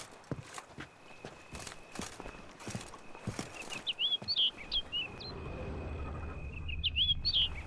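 Short, chirpy bird calls in The Witcher 3: Blood and Wine ring out in two brief bursts over steady ambient noise and hoof-like footsteps.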